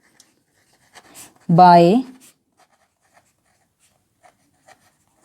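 Marker or chalk scratches on a board during a Class 10 maths lesson, faint and intermittent, with a brief spoken word in between.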